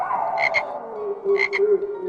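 Frogs croak in two short double bursts over a steady low drone, clear and fairly near, with no voices.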